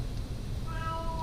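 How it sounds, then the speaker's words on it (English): A house cat gives a short, clear meow in a home kitchen, rising briefly above a steady low background hum, with no one talking. "Oh, Hugo, it's the cat."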